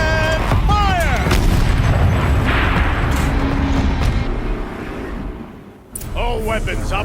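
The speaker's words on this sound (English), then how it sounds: "Rotate turret! And fire!" A turret fires in the video game Horizon Zero Dawn, a heavy booming blast with rumbling aftermath. Voices speak before and after.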